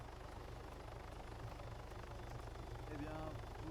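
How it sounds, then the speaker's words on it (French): A helicopter hovers close by, its constant low rotor drone and engine hum filling the whole stretch at an even level, with a faint voice briefly audible beneath the din. "L'hélico peut-il s'éloigner s'il vous plaît? J'entends rien."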